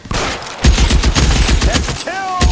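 Gunfire in the video game L.A. Noire comes as loud, close, rapid volleys of overlapping shots, with a brief lull before the firing resumes and a short voice near the end.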